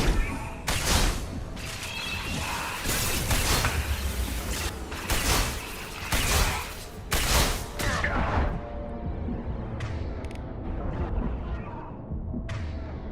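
Rapid bursts of gunfire from a video game fight, loud and dense for the first eight seconds with repeated volleys, then thinning into scattered shots and softer clatter toward the end.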